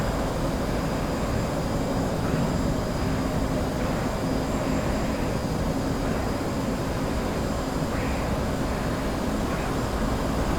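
Fighter jet engine in a combat flight game, a steady continuous roar that fills the whole stretch at even loudness, with no talking.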